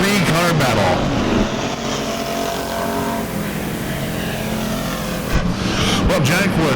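Race cars charging into the turns at Lake Ozark Speedway during heat laps, loud roaring engines rising and falling as cars pass close by, with an announcer calling the race over the noise.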